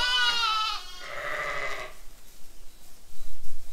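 A ewe close to lambing gives one loud, close, wavering bleat followed by a shorter second call, then fades into faint rustling.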